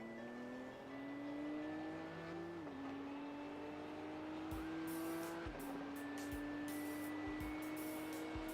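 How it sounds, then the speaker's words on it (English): Race cars in a video game's Spa 12-hour endurance race, a steady engine whine rising through the gears with shift drops, while other cars' sharper engine notes buzz past in short bursts near the end. "Faster cars approaching."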